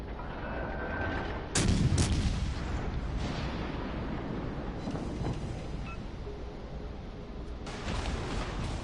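Naval artillery fire in a PS4 game: a heavy booming gun blast with a rolling rumble, then further deep shots and a distant-sounding impact over steady low ambient noise.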